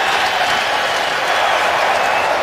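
Crowd of Patriots fans at a New England football stadium cheering as they rise for a 3rd and 16 against the Bills, a steady broad roar of noise filling the whole clip without a break.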